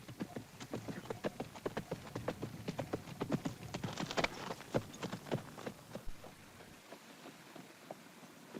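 Horse hooves clip-clop at a steady walking pace during a ride, a string of crisp, moderately close knocks that slow and thin out toward the end before fading away.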